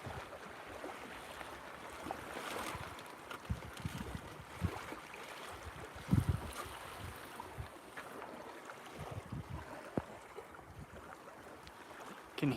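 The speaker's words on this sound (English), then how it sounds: "Can hear the wind" Wind gusts over a lake around a fishing boat, a soft, steady buffeting with lapping water and occasional knocks against the hull, fairly faint throughout.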